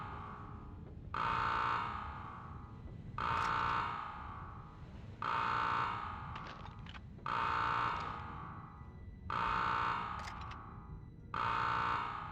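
Alarm in the video game Medal of Honor: a buzzing electronic tone repeating in six evenly spaced bursts, each lasting about a second with short gaps between, loud against a low background rumble.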